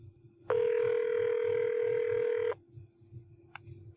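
An unanswered telephone call: a single loud, steady ringback tone sounds for about two seconds, then cuts off, followed by quiet background hum and a couple of faint electronic blips.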